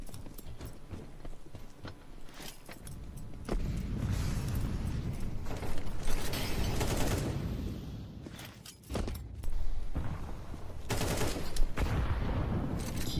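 Rifle gunfire in a CS:GO match around the B site, loud bursts of rapid shots coming in clusters with short pauses, alongside footstep-like clatter and steady game noise.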